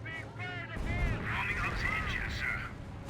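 Artillery barrage in Company of Heroes 1, a World War II real-time strategy battle: dense rumbling booms and crackling gunfire rolling together at close range, loud and continuous, mixed under a commentator's talk.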